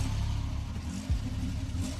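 A car in the video game Banebush pulls away, its low engine rumble steady and close with a brief surge of revving midway, no talking over it.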